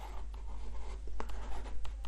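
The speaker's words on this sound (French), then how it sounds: "Je vais l'écrire en gros parce que c'est beau." Marker squeaking and scratching across a board while writing large letters, a steady close scraping with a few sharper strokes, no voices.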